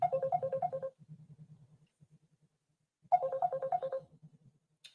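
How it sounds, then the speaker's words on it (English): A phone ringtone plays a short melodic tune twice, pausing between rounds, clear and nearby with no talking. "Why is Faith ringing us?"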